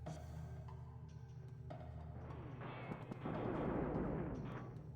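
A hostile robot shooting in a video game: sharp bursts of gunfire crackle at a distance, growing denser and louder toward the end over a continuous low background hum.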